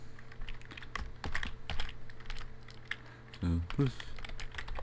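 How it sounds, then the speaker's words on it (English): Typing a phone number on a computer keyboard: a run of close, crisp key clicks in an uneven rhythm while a person talks over them, with a brief louder clatter near the end. "I'm going to type in my number, so area code,"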